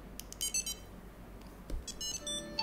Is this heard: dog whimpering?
no